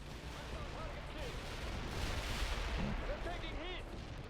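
Gunfire and artillery in a Cold War strategy video game set in Norway, steady rattling fire under scattered unit voice chatter and radio-like calls.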